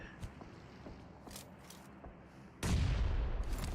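A grenade explosion in a video game bursts suddenly late on, a loud broadband blast that sustains a rough rumble to the end, preceded by scattered faint gunfire pops.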